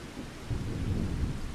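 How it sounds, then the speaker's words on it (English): Rain and a low rolling rumble of thunder in the Farming Simulator 25 video game, a brief steady wash of rainfall with the rumble swelling midway, no talk. "It is still raining, even though the forecast is showing sunshine."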